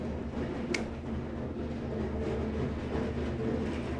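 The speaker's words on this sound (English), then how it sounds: "Wheelie bin on a gravel driveway." A wheelie bin rolls over a gravel driveway, giving a continuous loud rumbling crunch of wheels on stones that holds steady throughout, with no talk.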